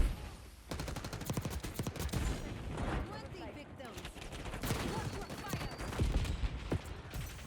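Rapid bursts of gunfire from a PDW-class submachine gun in Black Ops 6, repeated sharp shots cracking through a busy, continuous mix of game effects and other noise.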